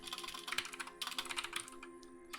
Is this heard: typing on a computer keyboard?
yes